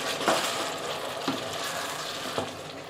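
Garlic and tomatoes frying in a pan for an Ethiopian egg sauce: a steady, close sizzle broken by three stirring scrapes roughly a second apart.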